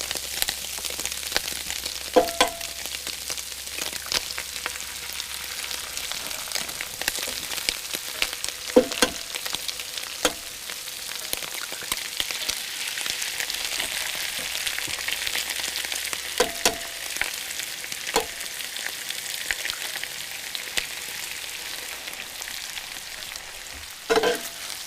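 Greasy food fries in a pan at a campsite, a continuous close crackling sizzle with scattered pops and occasional scraping of a utensil, steady throughout.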